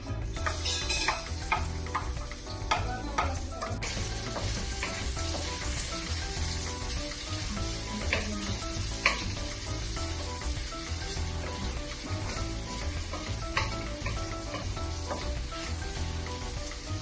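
Onion sizzling and frying in a pan as aromatics, with steady hiss and intermittent scraping and clinking as it is stirred, continuous and fairly close, with no talk.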